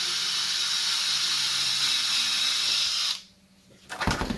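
A power drill bores into a memory box with a loud steady whine and hiss, then stops and falls quiet before a short burst of clattering near the end.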